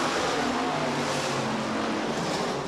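Sportsman class race cars roar around the dirt oval at Rapid Speedway, a dense, continuous engine drone from several cars at once, steady and loud with no clear gaps.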